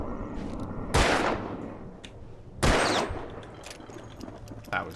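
Pistol gunshots in the video game Alan Wake, two loud sharp blasts about a second and a half apart, each with a short reverberant tail over a low game ambience, followed by a fainter third shot near the end.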